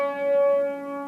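A single piano note, C sharp, struck once and sustained with a clear steady tone that slowly fades, played alone without talk.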